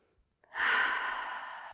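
A slow, deep inhale during a yoga practice, breathy and close, rising after a brief pause and sustained steadily for over a second.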